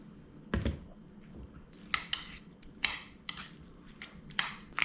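A spoon works through stone crab salad and mayo in a bowl, giving soft, sticky stirs punctuated by a handful of sharp clinks and scrapes against the bowl, quiet and close.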